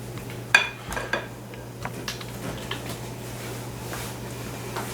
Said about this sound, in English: Spinning the whisk as I do it because I want all the mixing motion to be upward